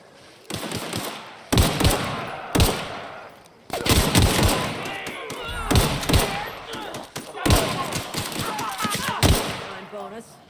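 Loud gunfire in The Outer Worlds video game comes in repeated bursts and rapid volleys with heavy thuds between them. Voices talk over the shooting.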